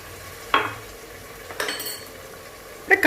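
A spoon stirs curd and biryani masala in a metal pot, giving a few separate scraping clinks spaced about a second apart, with a faint sizzle underneath and no talking.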